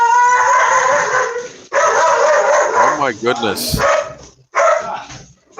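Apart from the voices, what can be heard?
dogs barking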